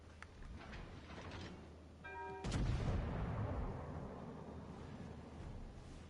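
Battleship main guns fire in a World of Warships: Legends naval battle, one loud booming salvo about midway that rolls off into a long rumbling decay over steady engine and sea background.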